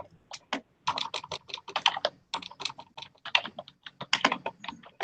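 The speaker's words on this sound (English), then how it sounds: "who's typing" Keys clatter in a steady, brisk stream of typing on a computer keyboard during a county board budget committee meeting, close and clear with no voices over it.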